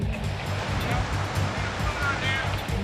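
Fast-rushing floodwater of the flooded LA River during a swiftwater rescue, a steady loud roar and churn of water close by with low rumbling surges throughout, a voice faintly under it.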